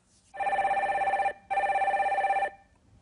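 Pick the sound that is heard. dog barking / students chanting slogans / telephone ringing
telephone ringing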